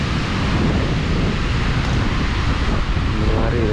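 Swollen river floodwater churns and roils in Trenggalek, a dense, loud, steady rushing roar mixed with wind buffeting the microphone, with no talking.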